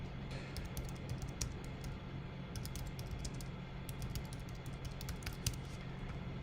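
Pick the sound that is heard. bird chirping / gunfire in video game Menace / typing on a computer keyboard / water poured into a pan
typing on a computer keyboard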